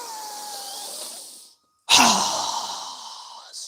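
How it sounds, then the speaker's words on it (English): A strong yoga breath is drawn in through the nose as a long airy hiss, then after a brief silence a forceful exhale rushes out through the mouth, close and loud. "inhaling through our nose, exhaling through our mouth with a strong breath"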